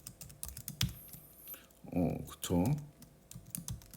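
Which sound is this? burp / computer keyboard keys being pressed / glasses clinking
computer keyboard keys being pressed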